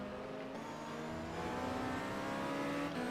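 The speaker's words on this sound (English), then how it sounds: "And off goes that Ferrari." An NGT Ferrari race car accelerates out of the pits at Valencia, its engine a sustained, rising roar with some tire noise, heard at a moderate distance throughout.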